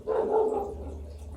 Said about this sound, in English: He's allowed to bark any day.